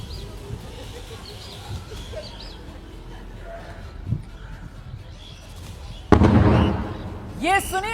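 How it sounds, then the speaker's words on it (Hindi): Explosion blasts at an airbase during an India–Pakistan strike: muffled thuds, then a sudden louder blast with a rumbling tail, while birds chirp and coo nearby and a voice murmurs faintly. "ये सुनिए आपने आवाज, वो दिवाली के धमाकों की"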